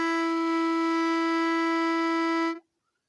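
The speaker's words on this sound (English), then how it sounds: "I will use a pitch pipe shown on the screen." A plastic pitch pipe blown on the note E gives one steady, pure reed tone. It holds evenly for about two and a half seconds, then cuts off into silence, close and moderately loud with no voices.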